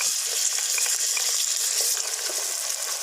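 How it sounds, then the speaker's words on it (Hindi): Tomatoes, garlic and green chilies fry with lightly browned onions for street-style Lahori chikar cholay, giving a dense, steady sizzle that crackles evenly and stays close throughout. "अब इसके अंदर मैं टमाटर, लहसुन और हरी मिर्ची डालने लगा हूँ"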